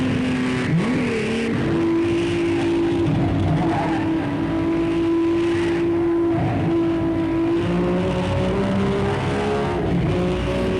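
A dubbed race car engine sound plays over old onboard racing footage from Fangio's era, a loud, steady drone holding pitch with small rises and dips and no pauses.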